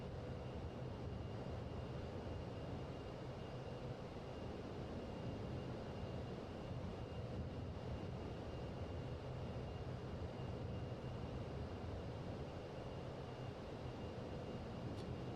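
Engines of an Avro Vulcan Mk.2 bomber in the MSFS 2020 flight simulator drone in a steady, even roar with a faint high whine, constant and unbroken throughout.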